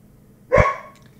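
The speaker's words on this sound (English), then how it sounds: "it's my dog barking" A pet dog gives one loud, close bark with a short tail of ringing room echo, alone without talk.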